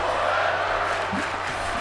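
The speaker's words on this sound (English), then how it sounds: "That's what the crowd are saying." An arena crowd in the wrestling game WWE 2K24 chants and roars together, a dense sustained wash of many voices during a women's match.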